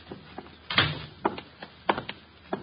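A door opens in an old radio detective drama, with a sequence of separate knocks and thumps, fairly close and moderately loud, and a few quieter clicks and bumps around them in a quiet room with no talking.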